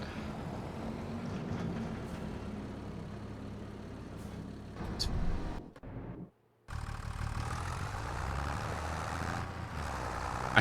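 Purple tractor engine idling in Farming Simulator 25, a steady low rumble with a hiss like an air brake partway through and a brief cutout of near silence, then the drone resumes.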